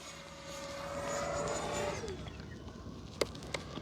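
An FMS Yak 130 70mm electric ducted-fan RC jet flies past at full throttle with a loud, steady whoosh and whine. The pitch drops as the jet moves away, and brief clicks follow near the end.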